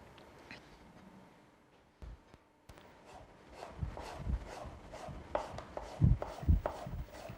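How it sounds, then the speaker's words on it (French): A knife chops apples and ham into julienne strips on a board, with quiet taps at first and then a quicker run of sharper, louder cuts nearby. "on va préparer les juliennes de pommes et de jambon"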